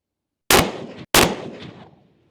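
Two sharp rifle shots fired outdoors at long range, loud and close, each followed by a decaying echo rolling away across open ground.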